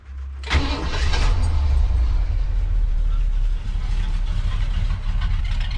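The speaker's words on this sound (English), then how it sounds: "Just fires right up. It runs real smooth." A Ford Bronco engine cranks and catches with a sharp start, then settles into a steady, loud, close idle that rumbles evenly for several seconds.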